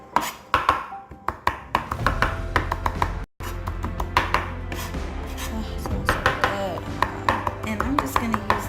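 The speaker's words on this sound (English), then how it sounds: "So then I just put it in a pile and I just chop it" A knife chops wet spring-mix salad greens on a cutting board in a home kitchen, quick irregular taps and crunches close up, with a brief pause partway through and a low background hum.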